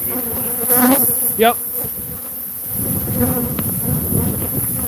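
Bees buzz loudly around a hive in a shed, a dense close drone with individual insects whining past, and a voice briefly answers once.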